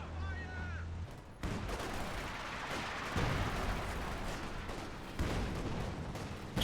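Artillery barrage landing in a real-time strategy match, a dense run of overlapping booms and crackling gunfire that starts abruptly after a brief tonal sound and continues steadily, loud and close throughout.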